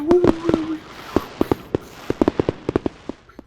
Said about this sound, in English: Fireworks noises.